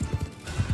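Horse hooves clip-clopping in the video game Mount & Blade II Bannerlord as the horse climbs a steep slope: a quick, uneven series of soft, close thuds, with no talking.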